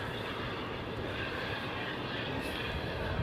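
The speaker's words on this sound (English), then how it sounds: "Lufthansa jet" Steady broadband roar of a Lufthansa jet airliner's engines, loud and continuous with no breaks, filling the clip from start to finish.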